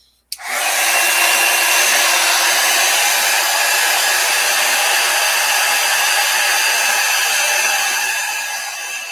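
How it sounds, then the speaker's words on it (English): A heat gun dries gold watercolor paint with a loud, steady rushing blast of hot air that kicks on abruptly and holds evenly for about nine seconds, easing slightly at the end. "I'm going to hit it with a heat gun so I don't move any of that gold"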